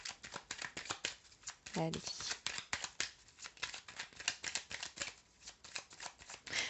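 Tarot cards from a Belline deck shuffled and drawn in a run of crisp riffling flicks, with a voice talking over them throughout.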